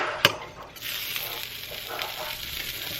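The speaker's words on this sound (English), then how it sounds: "Let me put this butter in." Butter hits a hot frying pan set on high heat and sizzles with a bright, crackling hiss. A sharp clack opens it, then the frying settles into a steady, close sizzle with small pops.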